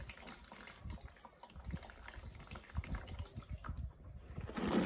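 Water poured into a soil sample to wash away silt and clay, heard as faint, uneven splashing and gurgling pulses that swell toward the end, with no talking.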